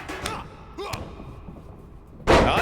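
A punch to the head in the WWE 2K25 wrestling video game lands as a heavy thud, with a few softer knocks before it, over the bed of sound from a crowded arena.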